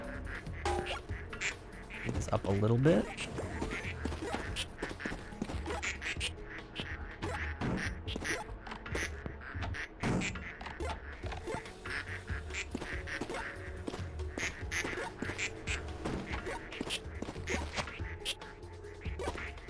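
Ducks quack over and over in the video game Project P.I.T.T., a steady dense chatter of calls with one louder rising cry early on, while a person speaks briefly over them.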